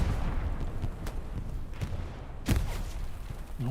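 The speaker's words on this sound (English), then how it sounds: "Oh, that grenade's a little bit closer" Distant explosions and gunfire thump through a World War II video game battle, including a grenade blast going off closer by. Several muffled booms and sharp cracks land at irregular intervals over a low rumble.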